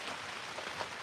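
Steady rain falling outdoors at night in mild weather around 40 degrees, a soft, even hiss of drops on surfaces with faint scattered patters throughout.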